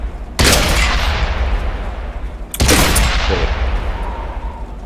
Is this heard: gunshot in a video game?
yes